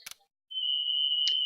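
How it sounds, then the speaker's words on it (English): A fire alarm sounds during a self-test: a single steady, piercing electronic tone holds loud and unbroken for about a second, after a brief burst of noise and short silence. "Fire alarm randomly going off."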